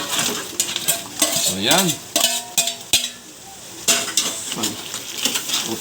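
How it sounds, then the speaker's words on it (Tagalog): About a kilo of steamed crabs is added to a hot pan of butter, garlic and spicy sauce and stirred, with sizzling, scraping utensil strokes and clacking shells up close, and a voice speaking briefly. "Ilagay na po natin yung ating crabs"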